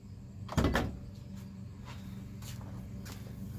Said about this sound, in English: Pop your trunk.